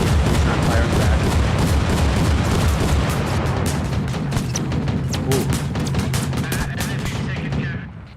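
Sustained video-game gunfire pours into an LAV armored vehicle during a team battle, rapid overlapping shots and booms forming a dense, loud barrage that continues nearly unbroken before tailing off at the end.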